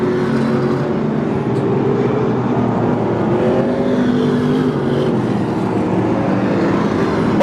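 Stock cars roar around the Hanford dirt track at a nighttime Dirt Nationals race, a dense, loud wall of engine noise with overlapping whining revs from several cars running close together, no talk heard.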